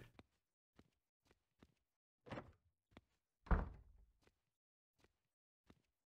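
A locked door is tried in Cannibal Abduction: a couple of dull rattling thunks as it holds fast, set among soft, evenly spaced footstep taps in an otherwise quiet space.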